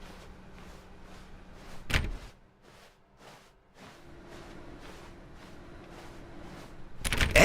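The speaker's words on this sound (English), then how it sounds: "Now, go click a few times on door 437." Clicks on a door in The Stanley Parable: a series of short, dry taps repeated at a fairly even pace, broken by two louder, sharper door-like thuds, one early and one at the end.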